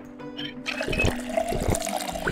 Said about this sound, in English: Why don't you take a drink of water? You deserve it.